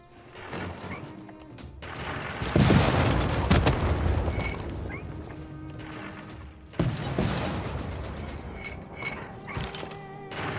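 An encampment fires on the city of Sippar in Civilization VI: Rise & Fall: bursts of crashing, mechanical impacts and rumbling booms in two main waves, loud and dense, with no voices.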